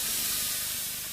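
Liquid oxygen poured into an aquarium, boiling off in a loud, steady hiss that fills the short clip without a break.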